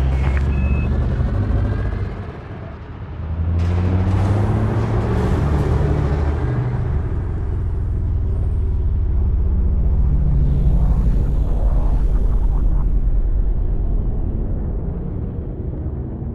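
A spaceship in Elite Dangerous rumbles out of a station with a deep, steady engine roar and rising thruster whoosh, loud and sustained, after a brief dip at the start.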